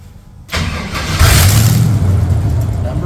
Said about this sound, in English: We turn on fuel pump, turn on the ignition, start button, start number 1.